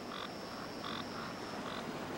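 A frog croaks in a steady background of insect-like buzzing, with a few short repeated calls at regular intervals, faint and distant.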